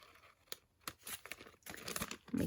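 Paper being cut off a craft project with scissors, a few sharp snips and crinkling rustles in short bursts, close and fairly quiet with no talking.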